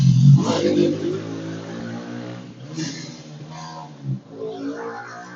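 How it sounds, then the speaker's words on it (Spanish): A high-displacement motorcycle passes close by, its loud engine revving and rising in pitch before fading, with faint speech over the last couple of seconds. "Una moto de alto cilindraje por acá y me cortó comunicación"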